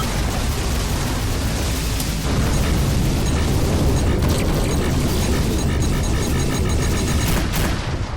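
Missile explosions and a rumbling space-combat barrage in the video game Rebel Galaxy Outlaw, dense and loud throughout, with a few sharper bursts near the end.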